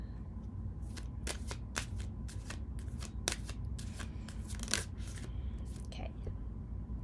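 A deck of tarot cards is shuffled and cards are pulled during a pick-a-card reading. Sharp, crisp riffles and snaps come in quick irregular bursts, close and quiet over a low steady background hum.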